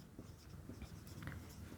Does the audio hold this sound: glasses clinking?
no